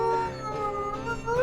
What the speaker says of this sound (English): The elk are gonna start moving just from us howling